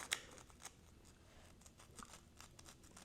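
Scissors or a blade cut across the backs of toy packaging in quiet, faint snips and rustles, with one sharper crack near the start.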